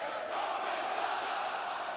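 A wrestling arena crowd on Raw the night after WrestleMania roars in a sustained, unbroken chant, loud and distant-sounding, drowning out a promo in the ring.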